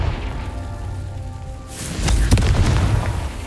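Explosion from the Confringo fire spell in the Hogwarts Legacy video game, a loud booming blast with crackling bursts that follows a quieter stretch and stays up close to the end.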